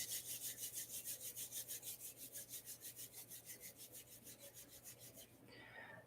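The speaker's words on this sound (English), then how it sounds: "rub your hands together." Two palms rubbing briskly together in a steady back-and-forth rhythm, about thirty close, dry swishing strokes over a low steady hum, then a brief rustle at the end as the rubbing stops.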